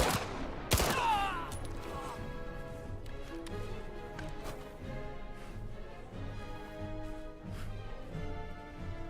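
Gunfire in the video game Indiana Jones and the Great Circle: a single sharp, loud shot rings out early, followed by scattered softer clicks and taps over low game ambience.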